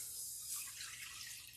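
Beef broth poured into a cooking pot, a steady, close liquid splashing and trickling that runs unbroken for under two seconds with no voices.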